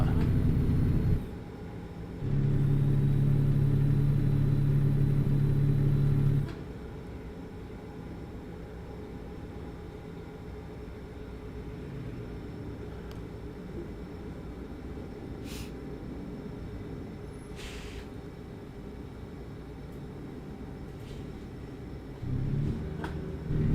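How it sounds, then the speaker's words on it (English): Truck engine drone from American Truck Simulator, a low steady rumble that swells louder early on, then settles into a quieter continuous hum with faint road noise and a brief rise near the end. "I've got a little better at driving this truck"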